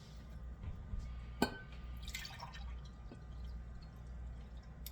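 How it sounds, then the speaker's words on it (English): Stock poured into a soup pot for potato and meatball soup, a soft liquid trickle with one sharp splash or clink near the start, over a steady low kitchen hum. "you're gonna pour 6 cups of stock in here."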